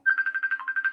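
A phone ringtone for an incoming call plays as a quick run of about eleven bright electronic pulses in steady rhythm, clear and close, with no voices over it.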